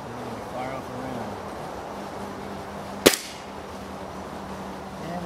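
A Gamo Socom Extreme air rifle fires a Predator Polymag polymer-tipped pellet in one sharp, loud crack with a brief ringing tail, standing alone against a steady outdoor background hum.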